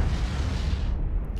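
A torpedo blast in the Cold Waters submarine game: a deep, sustained low rumble that fills the whole short stretch, loud and close, fading slightly in the upper range toward the end, with no voices.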